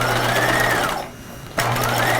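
A sewing machine stitches a bulky jacket seam at lengthened stitch length, running in a loud steady whir, pausing briefly in the middle, then starting again.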